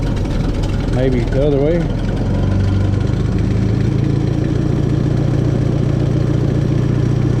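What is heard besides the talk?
International 300 tractor engine idling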